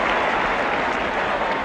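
A football crowd at Oldham's ground during a 1977-78 match against Spurs claps in a dense, steady wash of applause that stays loud and even throughout.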